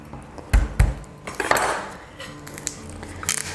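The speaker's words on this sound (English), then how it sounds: "we've got 3 extra cloves of garlic, so we're going to chuck them in" Garlic cloves tossed into a pan of tomatoes being prepared for roasted tomato soup, landing with two sharp clattering knocks followed by lighter metallic rattles and clinks, close and alone.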